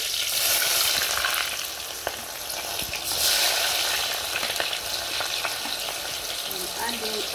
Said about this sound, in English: I'm adding all the ingredients together. Green pepper and onions.